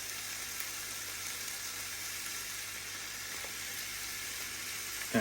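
Bacon sizzles steadily on a Tefal Optigrill contact grill, a continuous close crackling hiss with no voices over it.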